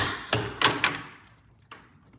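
A door being opened, with a dog held in a sit-stay beside it: a few distinct knocks and clunks of the latch and door in quick succession, then a fainter thud a second later, close and clear.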